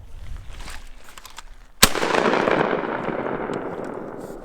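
A single sharp, loud blast from a JTS M12AK-T1 AK-47-style shotgun cracks out after a quiet stretch, followed by a long, rolling echo that fades slowly outdoors.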